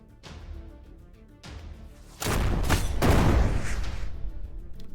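Gunfire in the Shardpunk turn-based game: two sharp shots with ringing tails, then a heavy, loud burst of overlapping blasts and booms that rumbles on for a couple of seconds, no speech.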